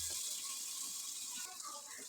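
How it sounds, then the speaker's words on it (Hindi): Water, about a cup, is poured into a pan over a spiced onion-tomato base with turnips, making a brief steady gushing and hissing pour, close and fairly quiet, with no voice over it. "1 कप के करीब पानी डाल देंगे।"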